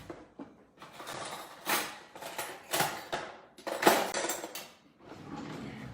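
A spoon scrapes and smears red sauce across a pizza base in a string of close, uneven rasping strokes with short pauses between them.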